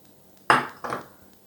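An air fryer pan clanks twice on a kitchen counter during meatloaf prep, a sharp metallic knock followed by a slightly softer second one, close and alone.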